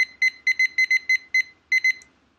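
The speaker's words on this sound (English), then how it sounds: "10 minutes going on the timer." A timer set for 10 minutes in a classroom gives a run of sharp electronic beeps, loud and close, coming in quick pairs with short pauses, then a final softer blip, and no talk over it.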